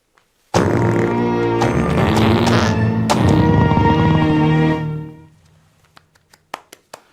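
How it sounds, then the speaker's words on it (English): A long, loud, sustained fart with a buzzing, wavering tone that swells for about four seconds, then fades into a string of short, sharp popping toots. "Put all that together, and you have a fart"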